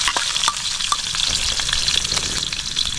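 Onion sautéing in a pan alongside squash and tomato ingredients hisses in a loud, continuous sizzle close by, broken by frequent sharp clicks and scrapes of stirring.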